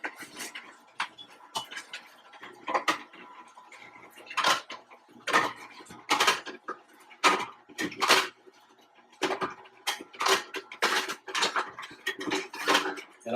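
Produce chopped inside a Froothie Optimum 700 Advance wide mouth juicer, heard as irregular sharp clunks and crunches in quick bursts with short quiet gaps between them.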